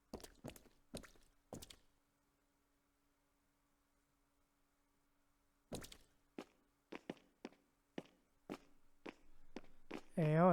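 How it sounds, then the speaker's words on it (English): Footsteps in the game Punishing Gray Raven: a few thudding steps, then a long silence, then a series of spaced, echoing footfalls ending in a rising whoosh, with speech around them. "I think I heard footsteps."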